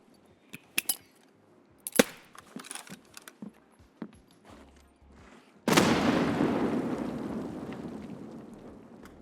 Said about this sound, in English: this is when I decide to use the bait nades to bring him back